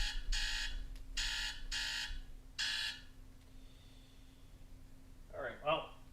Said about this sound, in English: there goes my alarm telling me to start the stream